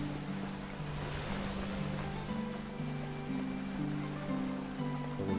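Steady river water rushes in the Medieval Dynasty game, a continuous broadband wash heard alongside soft, shifting musical tones, with no talking.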